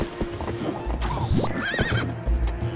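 In Zelda: Twilight Princess HD, a horse gives a loud warbling neigh over hooves clopping on the ground, with scattered game effects and thumps around it and no voices.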